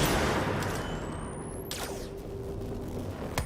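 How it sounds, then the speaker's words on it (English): Enemy gunfire rattles in a dense volley during a firefight in the video game Control, loud and continuous with sharp cracks and a rising whine partway through. "Yeah, see, they're shooting at me."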